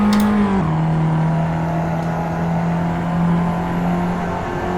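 A race car engine in Assetto Corsa holds a loud, steady high drone after a quick gear change near the start, sustained on power with a constant whining tone and little variation.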